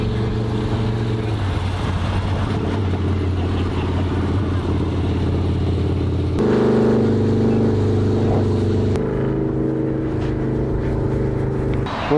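A custom Indian Scout motorcycle engine runs while being ridden, a loud continuous low drone whose pitch shifts between steady stretches as the bike changes speed, close by and with no clear talk over it.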